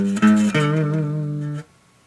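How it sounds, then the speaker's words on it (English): A single electric guitar note picked on the 5th string at the 7th fret and bent upward, the pitch rising then holding steady for about a second before being cut off, played alone for a rock song. "go to the 7th fret on the 5th string, and when we do this, we're going to bend it"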